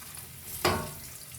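Two medium-sized onions dropped into half a cup of hot oil for an aloo gobhi curry, a sudden loud sizzle that flares up and then settles into a steady frying hiss, close and without talk.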